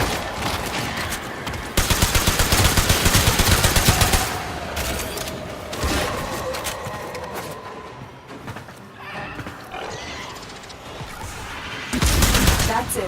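In Warframe, a security eye fires on pendulas, producing bursts of rapid automatic gunfire alternating with strained mechanical whinnying cries and a dense, clattering backdrop, loud and close throughout.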